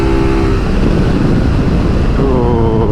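A 2019 Suzuki V-Strom 650 touring motorcycle rumbles loud and close while being ridden, engine note climbing as it accelerates under steady wind noise, with no talking.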